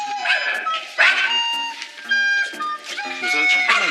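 Spitz dogs bark fiercely and repeatedly at a visitor indoors, with sharp, high yips and barks that come in rapid bursts close to the listener and overlap throughout, and a voice faintly underneath.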